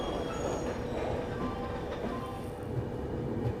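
Duronto Express train rolling into a platform on the Chennai to Delhi route, a steady close rumble of wheels and carriages with faint clatter and no talking.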